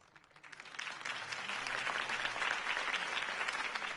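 Applause from a crowd in the video game Batman: Realm of Shadows swells up quickly and holds as a dense, steady clatter of clapping for several seconds.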